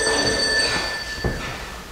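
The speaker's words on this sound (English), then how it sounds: "It's just my cell phone." A cell phone rings indoors during a stage play, a couple of bright electronic ring tones rising and fading over a quiet room.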